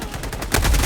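A sentry turret fires during a Helldivers battle, a rapid rattling burst of automatic gunfire that swells louder in the second half of the brief moment, with no talk.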